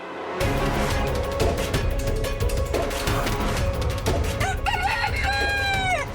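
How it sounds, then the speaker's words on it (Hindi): A rooster crows loudly and near near the end, a rising then held cock-a-doodle-doo call that follows steady clucking and farmyard rustle, set in the mythological drama Vighnaharta Ganesh. "अर्थात इस मुर्गे ने समय से पहले बांग दी है।"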